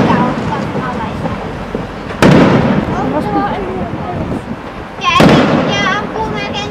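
Fireworks burst at the Kuopio Christmas opening: two loud, sharp blasts with crackling tails ring out over a steady background of popping and fizzing, with a crowd murmuring throughout.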